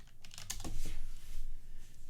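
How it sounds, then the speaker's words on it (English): Keyboard typing during a League of Legends session, a quick run of soft clicky keystrokes at close range, steady and uneven in rhythm, with no voices over it. "That's why I was typing."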